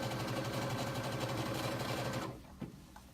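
A sewing machine runs steadily, stitching denim for Ginger Jeans, its rapid even whirr close and loud for about two seconds before it stops, followed by a soft thump of fabric being handled.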